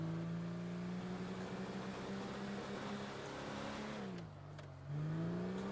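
A car engine in GTA V FiveM drones steadily with rising and falling revs, dipping briefly near the end before climbing again as it drifts; loud and continuous, with no voices.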